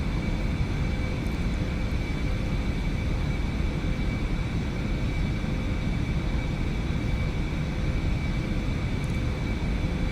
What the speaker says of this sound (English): The Eclipse 550 is a neat little jet.